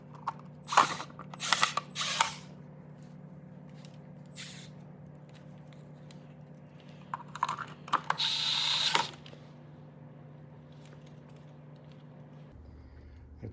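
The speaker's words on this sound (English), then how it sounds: "we're gonna go ahead and put a few screws in it to hold it in place" Screws being driven to fix a Minn Kota Ulterra trim motor in place: several short bursts of ratcheting, whirring driver noise at close range, separated by quiet pauses, with a low steady hum underneath and no talking.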